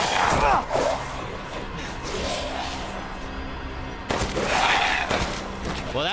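Rapid gunfire from a Resident Evil video game, dense bursts of shots with loud blasts near the start and again after a brief lull, sustained game noise throughout and no speech.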